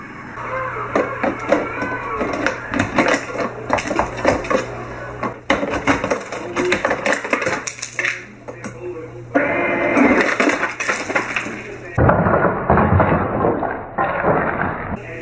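Someone jabs a tool at jammed ice inside a home ice maker, producing close, irregular clattering and knocking bursts of hard ice and plastic, with short pauses between.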